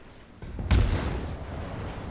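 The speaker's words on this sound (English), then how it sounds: "I'm trying to get that one side gun to shoot, but it's a little difficult" Deck guns of the USS Clemson destroyer firing in World of Warships, a single heavy booming shot after a lighter preceding report, followed by a long rumbling decay.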